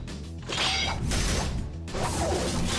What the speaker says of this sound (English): two steels clanging against each other, sparking clashes increase in rhythm without cause